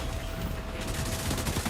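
Dense rapid gunfire rattles in The Division 2, a loud continuous fusillade of overlapping shots with no talk.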